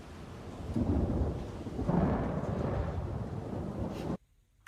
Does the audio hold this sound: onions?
no